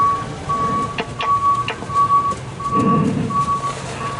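Truck reversing beeps sounding as a steady, evenly spaced high tone series, mid-distance, over background engine rumble and faint low voices.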